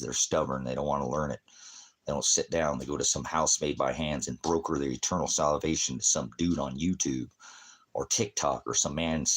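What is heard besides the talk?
No everyday noise stands out behind the speech.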